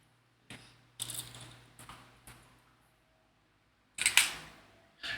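Small hardware for an Optimus Prime model kit is handled close by: a few sharp plastic clicks and rattles spaced over several seconds, with a louder rustle near the end and quiet gaps between.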